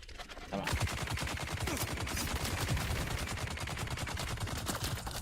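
Sustained heavy machine gun fire from a heavy gunner in the Dune Awakening video game, a loud, rapid, unbroken stream of shots lasting several seconds after a brief quiet start.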